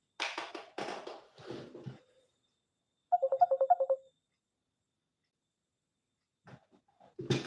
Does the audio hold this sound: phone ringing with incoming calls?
yes